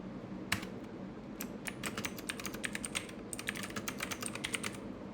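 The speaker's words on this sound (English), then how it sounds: "I want to type this." Fingers tap out code on a computer keyboard in quick, uneven bursts of crisp clicks, pausing briefly before a denser flurry of keystrokes, close and clear over a quiet room.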